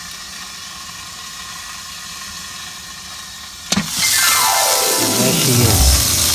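BBQ chicken sizzles on a Ziegler and Brown triple grill at about 250 degrees, a steady close hiss that jumps louder after a sharp clank near the middle and keeps crackling to the end, with a brief spoken line over it.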